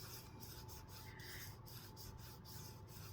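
Paper being rubbed down onto a wooden model gives a soft, steady rasping hiss with faint rhythmic strokes, quiet and close, no voices.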